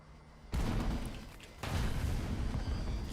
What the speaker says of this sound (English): I think an AGM just hit that house